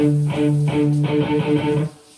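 Tight, chugging palm-muted electric guitar downstrokes on the open low D string, a quick rhythmic series of short, dampened notes played alone.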